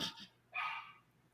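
Dogs give a single short bark, fairly close and clear in a quiet room, followed by a soft fading tail and near silence.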